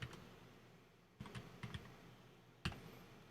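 A few quiet keystrokes on a computer keyboard come in small, spaced clusters, with a soft click at the start and a sharper tap near the end, against a near-silent background.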